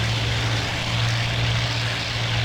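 A damaged F-82 Twin Mustang in the flight game IL-2 1946, running on one engine, gives a steady, loud propeller-engine drone with a constant low hum and no voices.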